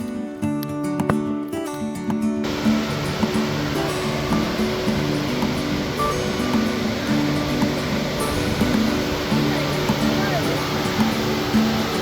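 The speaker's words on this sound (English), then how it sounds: "Here we are at the lower falls, and this one was considerably taller" Lower falls of a waterfall in Michigan's Upper Peninsula, a tall drop giving a steady, close, broadband rushing roar that fills the whole clip, with a brief burst of other noise at the start and a voice partly over it.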